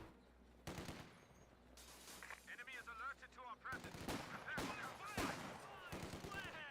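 Vickers and MG42 machine guns fire in a Company of Heroes 2 battle, with rapid bursts of sharp shots and longer rattling volleys repeating over a busy combat background, mixed with other game effects.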